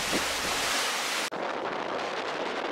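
Strong wind at 17 knots buffeting a sailboat at sea, a loud rushing roar across the microphone that cuts off abruptly partway through, then a softer windy wash.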